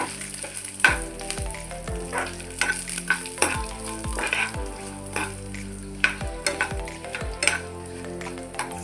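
Mustard seeds, dried chillies, garlic and curry leaves sizzle and pop in hot oil in a pan, with repeated stirring scrapes and crackles over a steady fry.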